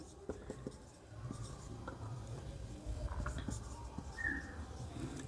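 Pen or marker scratches across paper or a board while the distance formula is written out, soft, steady strokes and taps, faint and close.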